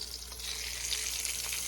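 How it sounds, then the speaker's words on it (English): Chicken pieces fry in a pan with a steady, moderately quiet hiss and sizzle over a low background hum, with no talking. "But I'm going to fry all of it."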